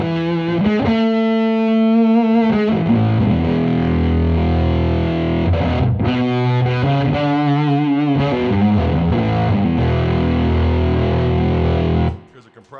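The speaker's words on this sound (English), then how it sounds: "Here's a fuzz." A fuzz pedal drives an electric guitar into a thick, saturated, buzzing tone, played as sustained chords and riffs for several seconds before cutting off abruptly near the end.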